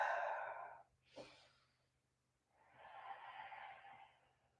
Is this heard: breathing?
yes